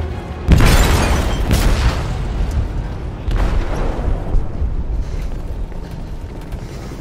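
An explosive detonates in the hold of a ship in the video game Detroit: Become Human, a deep booming blast followed by a second rumble and lingering creaking, metallic rumbling as the ship sinks.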